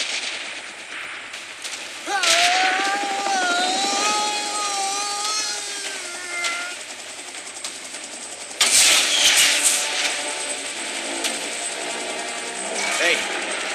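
An aircraft in PUBG Mobile drones overhead with a whining, wavering engine pitch, mixed with bursts of gunfire and a sudden loud blast midway, while voices talk over it.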